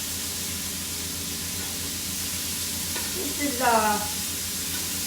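Shrimp sizzle on a grill in a steady, moderately loud frying hiss that carries on throughout, while someone talks briefly partway through.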